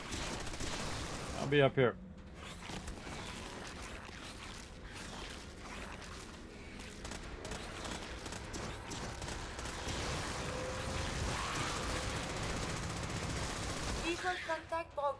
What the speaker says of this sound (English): We appear to be under fire.